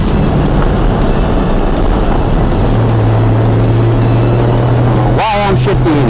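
Porsche 981 GT4 held in third gear on a track day, a loud continuous engine drone with a steady rising tone and heavy wind buffeting, briefly interrupted near the end by a voice.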